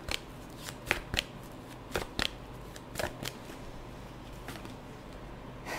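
Tarot cards shuffled and drawn from a deck, a series of crisp, close riffling snaps coming in uneven bursts, quiet and alone without talk.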